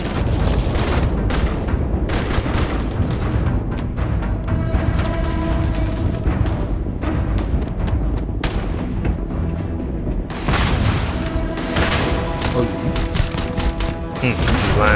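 Heavy gunfire from the Starfield video game, with dense, rapid bursts that run almost without pause. The shots are loud and close, and a voice is heard now and then under the firing.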